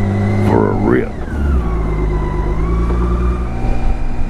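A 2018 K1600B Grand America motorcycle cruises on a highway with a steady, loud engine drone and wind rush throughout, while a person talks briefly near the start.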